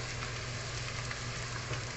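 Ginger frying in hot oil for ginataang monggo, a steady, close, dense sizzle with no talk.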